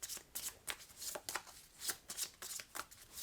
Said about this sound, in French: donc je vais quand même remélanger ma défausse